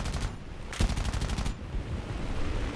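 Machine guns of a B-25J-1 bomber in the War Thunder video game fire in rapid bursts of close, sharp shots, with a short volley, a brief pause, then a longer sustained stream.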